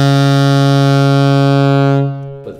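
A low bottom B flat is held on a brass instrument with a buzzy, foghorn-like tone, one sustained loud note lasting about two seconds before it cuts off.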